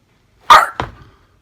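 A dog gives two loud, close barks in quick succession, the second shorter and rougher, followed by silence.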